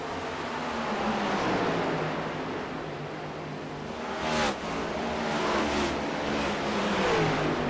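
Race cars in a UFL Elite Series race at the Rock power out of turn 2, their engines roaring loudly and steadily with rising, overlapping revs as the tightly bunched pack accelerates.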